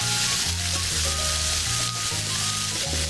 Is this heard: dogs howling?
no